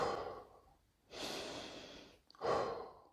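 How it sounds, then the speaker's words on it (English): Recovery breaths in a meditational fitness workout: three deep, close breaths, a long exhale, then a drawn inhale and a final sharp, breathy exhale, with no speech. "I still have 2 more recovery breaths to do"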